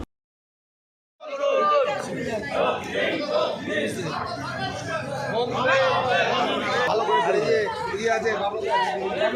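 Trinamool workers marching in a street procession through town, a dense crowd of voices chanting and shouting together, loud and close, with overlapping calls that continue without a break after a short silent start.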